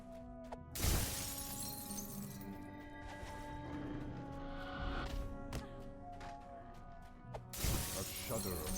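A magic orb shatters in the fantasy video game DDO, a sharp glassy crash near the start and another near the end, over a steady bed of game ambience and music with narration running alongside.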